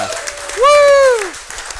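A studio audience at a comedy talk show claps and cheers, with one loud whooping voice rising and falling over the applause for about a second before the crowd noise fades back to a murmur.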